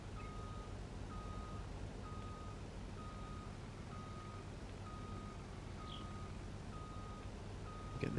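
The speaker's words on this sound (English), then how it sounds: "Get the trailer reversed in quite nicely." Reversing beeps from a trailer being backed up in Farming Simulator 19, a steady evenly spaced series of about a dozen moderate beeps over a low engine rumble, with no talk.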